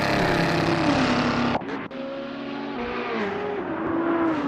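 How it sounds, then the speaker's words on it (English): A safety car's engine roars loud and close at Daytona Raceway during a racing event, with harmonic revs that rise and fall, briefly cut out around the middle, then resume steady and strong. "The safety car is roaring louder than I could ever shout"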